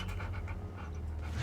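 A dog in the video game Hell is Us pants in quick rhythmic breaths, close over a low droning ambience.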